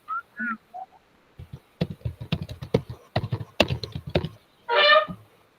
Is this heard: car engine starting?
no